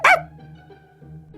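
A boy imitates a dog with one loud, sharp bark-like yelp at the start, followed by a quiet low hum and faint background noise.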